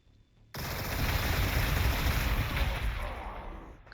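Dense gunfire in the video game Warhammer 40,000: Gladius, a sudden loud sustained burst that erupts and rattles on for about three seconds before cutting off.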